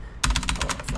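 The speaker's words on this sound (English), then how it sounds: "Type it" Rapid typing on a computer keyboard while setting font text in Photoshop, a steady run of close, crisp key clicks that starts suddenly after a brief quiet moment and carries on without talk.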